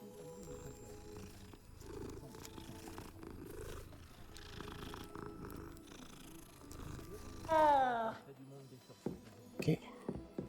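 A cat purrs in Hogwarts Legacy, a soft low rumble under steady game ambience, followed by a brief mewing sound near the end. A person speaks quietly over it.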